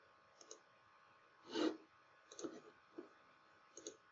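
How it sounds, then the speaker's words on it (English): A computer mouse clicks faintly and sparsely, a few soft separate taps spread over a quiet room background. "I'm clicking on this policy tab"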